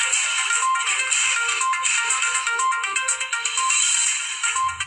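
A bright electronic phone tone plays continuously for several seconds, a busy repeating melodic pattern filling the clip alone without any voices.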